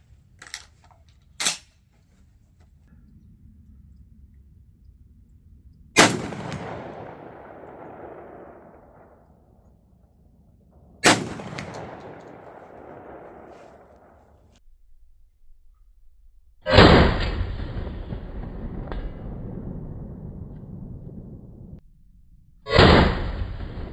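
A Remington 1100 shotgun firing slugs at a metal target 100 yards out, with several loud sharp outdoor blasts spaced seconds apart, each trailing off in a rolling echo, and the last two heavier and closer.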